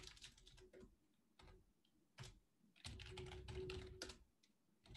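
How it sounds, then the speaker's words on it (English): Steady tapping on a computer keyboard, quick clusters of keystrokes with short pauses and one denser burst of typing near the end, quiet and close with no talking. "it's hard to type with this thing."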